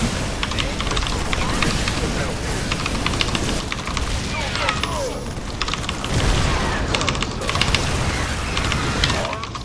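Gunfire rattles steadily as SCVs come under attack in a StarCraft 2 Terran versus Zerg match, dense bursts of shots running throughout with a commentator talking over them.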